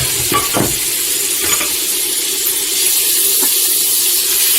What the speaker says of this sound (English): we're going to go ahead and add our butter. And we'll just let our butter melt down